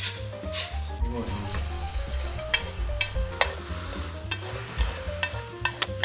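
Vegetables stir-fry one batch at a time in a very hot frying pan for kelp-noodle japchae, a steady close sizzle with scraping and stirring clatter running throughout, no talking.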